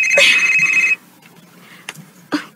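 A telephone rings once in a short electronic trill, close and clear, followed by a quiet room with faint rustles and a couple of soft knocks.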